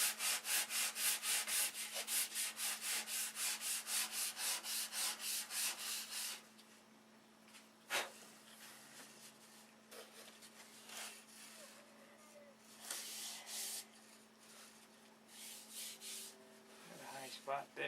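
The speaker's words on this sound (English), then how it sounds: "we're going to have to hand sand that" Hand sanding the fairing on a boat hull, a rapid rhythmic rasp of back-and-forth strokes for several seconds, then scattered lighter scrubbing, a sharp knock and quieter rubbing with faint background noise.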